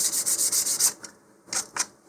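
Sandpaper rubs over primer on a model rocket body in steady back-and-forth strokes, a run of close scratchy passes followed by a pause and two shorter isolated strokes.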